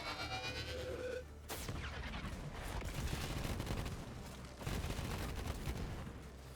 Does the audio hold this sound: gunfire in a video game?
yes